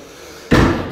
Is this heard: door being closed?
yes